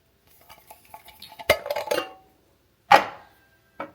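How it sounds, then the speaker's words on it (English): Silicone spoon knocking and scraping in a pot of heating canned milk, a few soft clinks followed by sharper clanks, with a last faint tap near the end. "I have my silicone spoon here to kind of keep things stirring around"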